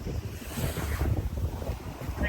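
Ocean waves at Miami Beach make a constant rushing surf roar, with heavy wind buffeting the microphone throughout.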